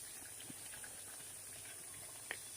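Round biscuits deep-frying in hot oil, a steady, hissing sizzle with scattered faint pops and bubbling, continuous and moderately quiet throughout.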